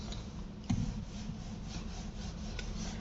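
Repeated rubbing of an eraser across a classroom board, a dry scraping swish in short strokes that continues steadily from start to end, with one sharper knock near the beginning.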